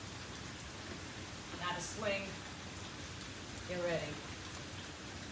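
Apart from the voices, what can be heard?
heavy rain outside in South Florida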